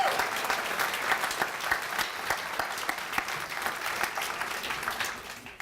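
An audience applauds to congratulate an honoree at a Health Heroes 2017 award event, a sustained wash of many clapping hands at a steady level throughout, with sharper individual claps scattered through it.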